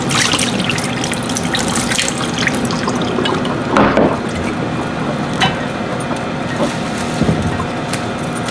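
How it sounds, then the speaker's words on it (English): Water runs steadily from a tap into a sink while a flower vase is refilled, a constant loud splashing rush with small gurgles throughout. "I'm gonna go ahead and replace the water just so it lasts a little bit longer"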